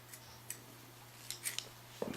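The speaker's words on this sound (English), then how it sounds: "I'll cut this yarn because I want to use a different color" Scissors snip through crochet yarn, a few faint, quiet clicks spread across a still room, with a short, sharper cut near the end.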